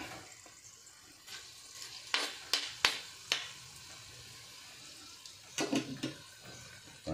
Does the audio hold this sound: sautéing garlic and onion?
yes